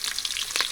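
Chopped onions stirred and frying in oil for an outdoor fish sambar, a steady close sizzle with soft scraping bursts as they are mixed.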